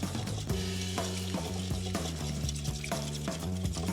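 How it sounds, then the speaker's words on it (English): Eggs, vanilla extract and sugar are mixed in a bowl, giving a steady run of close scraping and stirring strokes under a constant tonal hum. "I'm gonna mix this together"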